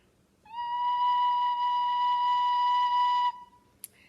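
A recorder sounds a single sustained B note, a clear steady pure tone held for about three seconds, close and alone, followed by a tiny click.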